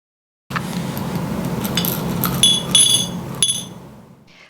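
A glass jar holding orange Chinese watercolor chips being handled, with light clinks and glassy taps over a rustling background, a few sharper chinks near the end before fading.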